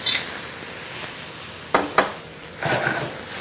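Cognac is poured into a hot pan over sweated-down shallots for a steak sauce, giving a steady soft sizzle with a couple of sharp pops and a brief louder hiss near the end.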